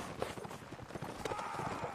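Horses clip-clop in a Napoleonic-era battle within the Mount & Blade Napoleonic Wars video game, their hooves sounding as a rapid, fairly faint patter under muffled background game noise.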